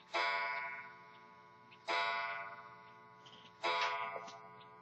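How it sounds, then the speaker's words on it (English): A clock chimes three times in an indoor room, each strike a bright, ringing tone that decays slowly before the next, evenly spaced about two seconds apart with no talking. "The clock's gonna chime 10 times."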